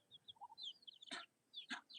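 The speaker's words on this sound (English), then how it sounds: "Look at our native chicken, Ate Shirlita." Native chickens brought down from the mountains cluck softly and chirp in a farmyard, with two sharper loud squawks standing out over quiet background peeps.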